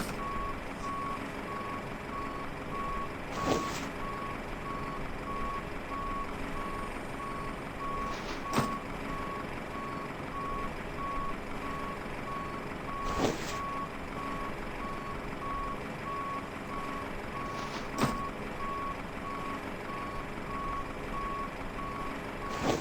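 In a flight simulator, a passenger bus arrives with a steady reversing beep repeating at an even pace over a low diesel engine rumble, with a few sharp air hisses at intervals and no voices.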